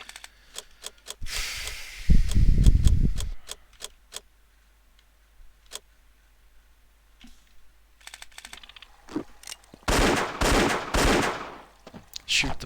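Gunfire in the Indiana Jones and the Infernal Machine game hits a crate in sharp bursts of rapid shots, two loud clusters separated by quiet stretches with scattered clicks.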